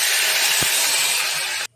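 Mashed cabbage dropped into hot oil with nigella seeds and turmeric over a low gas flame gives a steady, close frying sizzle and hiss, with one soft thump partway through before it cuts off.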